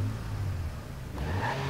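The Cavale car's engine in Watch Dogs 2 hums steadily, then rises in a short rev with a climbing tone, a moderately loud, close mechanical drone heard alone.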